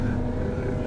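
Low, steady engine rumble from a 20-ton forestry machine driving over forest ground, heard from inside, continuous and moderately loud in a brief stretch.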